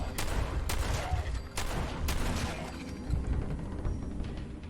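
Several loud gunshots in Fallout 4 crack out at irregular intervals over a dense rumbling game backdrop while ghouls are shot, each blast sharp and close.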